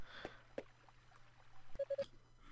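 A phone rings faintly with three short, evenly spaced electronic beeps near the end, heard against a quiet background after a few soft clicks.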